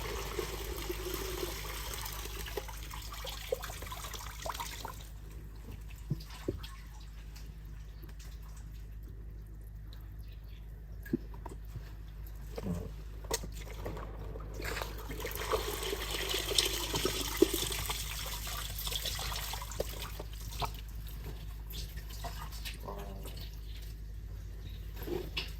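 Water splashing and trickling in a fish-farming pond as fish are tossed in by hand, a steady wet wash with scattered louder splashes throughout.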